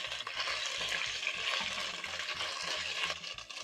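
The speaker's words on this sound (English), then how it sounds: "then you're going to be searing your beef for around 2 minutes" Beef sears in very hot cooking oil, sizzling loudly and steadily for several seconds, with a few low clanks of utensils underneath.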